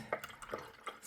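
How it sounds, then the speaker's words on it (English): A paint brush is rinsed in blackened water, giving a few soft, separate drips and splashes at close range with no voice over them. "Putting the brush in the water, which is nice and black."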